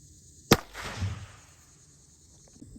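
One sharp, small crack of a shot from the world's smallest gun, a brief snapping report followed by a short echo and quiet room tone.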